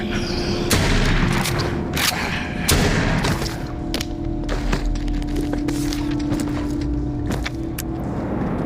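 Repeated gunshots fired at walkers in The Walking Dead: Saints and Sinners, sharp loud bursts at irregular intervals over a steady game hum, with no talking.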